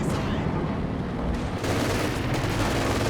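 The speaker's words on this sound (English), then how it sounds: "Going to prevent the capture attempt with the machine guns instead." Sustained machine gun fire in the real-time strategy game Company of Heroes 2 during a 2v2 match, a dense, continuous rattle of bursts mixed with battlefield noise for the whole stretch, loud and steady.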